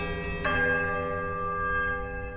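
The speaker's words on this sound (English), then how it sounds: "The peculiar chimes ring through the ruin. It's a quiet, melodic chime from all three bells" Bells chime in the fantasy role-playing game Pillars of Eternity, a single clear metallic strike whose melodic ring lingers and slowly decays over a soft ambient backdrop.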